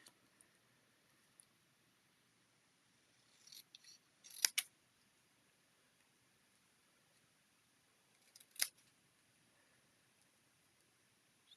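Scissors cutting paper for a handmade card, a few faint snips and crisp cuts in a quiet room, clustered near the middle with one more a few seconds later.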